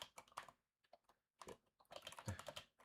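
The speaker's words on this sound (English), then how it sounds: "If I'm silent for a moment, I'm just typing the poll" Quick bursts of typing on a computer keyboard, close and soft, the keystrokes landing in irregular clusters broken by brief pauses.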